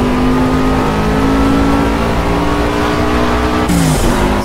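Race car engine in the Project Cars racing game, droning loud and steady at high revs, then a quick upshift into fourth gear near the end, with pitch dropping and climbing again.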